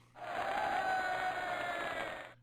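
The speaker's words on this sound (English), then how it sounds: "They're cheering for us." A Sim City 2000 crowd gives one sustained cheer, a loud roaring swell of many voices that rises sharply, holds steady for about two seconds and then cuts off.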